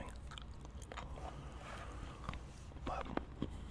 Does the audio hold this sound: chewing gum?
yes